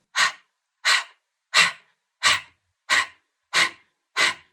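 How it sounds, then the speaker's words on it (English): Seven forceful exhales through the mouth in a steady rhythm during a breath-of-fire breathing exercise, each a sharp breathy whoosh close to the microphone, separated by clean silences, with no talking. "Exhale everything out your mouth."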